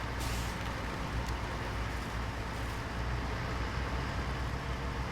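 Heavy truck engine in Snowrunner held at a steady loud drone with deep low rumble throughout, a brief hiss at the start, driven hard in low gear while pulling a trailer.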